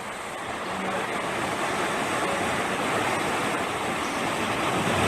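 Ocean waves wash onto a beach in the video game Magical Witch Bell as a steady, full rush of surf that swells slightly, heard alone.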